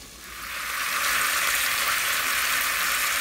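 Chopped onion with ginger and garlic frying in a pan, a steady bright sizzle that swells in the first second and then holds evenly, with no talking.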